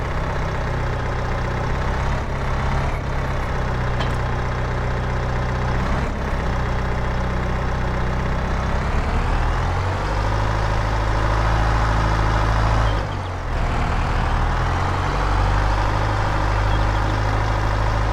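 Small telehandler engine in Farming Simulator 22 running steadily, a loud low diesel drone that rises and falls with the revs and briefly dips near the end, with no speech.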